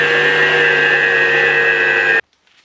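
A food processor whirs steadily while mixing peanut cracker dough, a loud, even motorized drone that runs for about two seconds and then cuts off abruptly into near silence.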